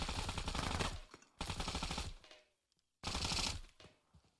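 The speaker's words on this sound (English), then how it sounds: "Sometimes I'm just kind of firing into the trees or the bushes, hoping that I take one of the enemies out" Three loud, close bursts of rapid automatic gunfire from Arma 3 gameplay, each lasting about a second with short pauses between and a fading tail after, no voices.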